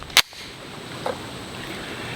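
A single sharp pistol shot from a Canik TTI Combat handgun cracks close and loud, followed by a faint ring or echo at the range.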